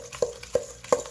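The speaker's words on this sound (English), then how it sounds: "I'm going to grab my spoon and I'm going to mix this all together" A spoon stirs banana muffin batter in a bowl, three distinct scraping knocks against the bowl at a slow steady rhythm, close and clear with no talk.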